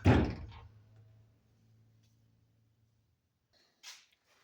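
A 1965 Ford Mustang door slams shut with a single loud, solid thunk up close, then a low hum lingers and a faint click follows a few seconds later.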